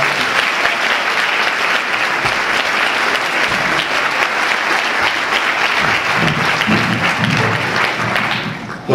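A dinner audience at a marathon event applauds steadily and loudly in a sustained, even burst of clapping that fades out at the end.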